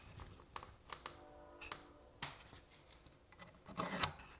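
A pencil drawn along a square to mark a line on wood: soft, brief scratchy strokes and light rubbing with small taps, quiet and close, with no voices.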